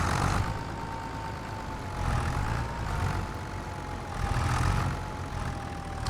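Steady droning tractor engine in Farming Simulator 25, a low rumbling idle with a faint whine that swells gently in a few waves, close and continuous without voices.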